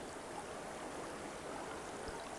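Swift river current flowing, a steady, dense rush of water with an even, continuous wash and no pauses, fairly soft and alone.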